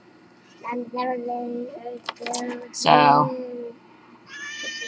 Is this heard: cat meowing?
yes